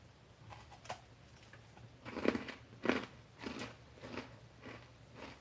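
Crisp crunching bites into a crunchy cheesy snack seasoned with cumin and coriander, several close, distinct crunches spaced a second or so apart, followed by softer chewing, with no talk.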